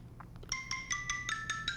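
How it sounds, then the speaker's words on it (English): A mobile phone gives a short, faint electronic ringtone of repeated high chiming beeps, somewhat distant, with no talking over it. "I got my phone ringing here."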